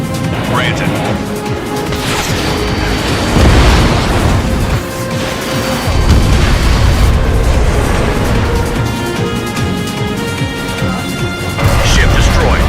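A ship is destroyed in Ace Combat, producing dense, continuous explosion and crash noise that stays loud for many seconds, with several heavier booming bursts and game sound layered together.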